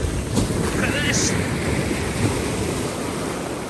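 Big sea waves at Pensarn Beach in North Wales, a loud, continuous roar of surf with heavy wind buffeting the microphone and no break in the wash.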